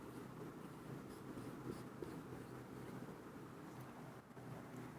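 Marker or chalk writing on a board in a chemistry class, a steady scratchy scraping that runs continuously and fairly faintly across the whole stretch with no talking.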